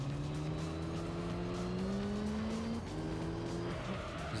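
A race car in Gran Turismo 3 on hard tyres takes a corner, its engine droning in rising and falling tones with a sustained tire squeal, loud and continuous.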